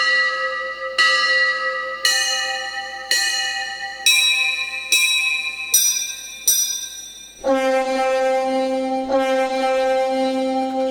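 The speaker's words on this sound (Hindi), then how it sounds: "फिर भजन वाला, भजन का इफेक्ट, ये भजन का हर स्केल का घंटा" A temple bell voice for bhajans on a Roland XPS-10 keyboard rings seven evenly spaced bright metallic strikes, each decaying, then two deeper, fuller bell strikes close and loud, with no talking.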